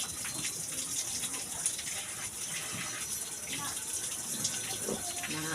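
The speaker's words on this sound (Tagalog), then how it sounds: "Hugas ako kamot" Hands being washed beneath a running tap, a steady broadband rush of water flowing and splashing throughout, with faint voices in the background.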